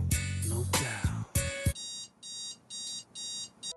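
An alarm clock ringing insistently, first a loud jangling burst, then a run of regular electronic beeping pulses repeating without pause.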